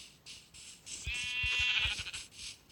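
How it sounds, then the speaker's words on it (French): A single wavering sheep bleat from Minecraft rises over a soft, muffled background of game ambience and faint thumps, close and clear, with no speech. "Petit mouton, tu es un mouton mort."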